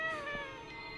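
A cat named Robert gives a single drawn-out, wavering meow, fairly faint against a quiet room background.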